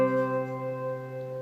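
A C note is played together on piano and guitar, forming one steady, sustained tone rich in overtones that holds evenly and quietly throughout, with no speech.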